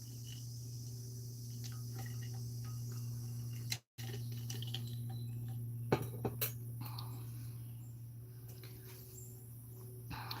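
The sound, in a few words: insects (bugs) around the speaker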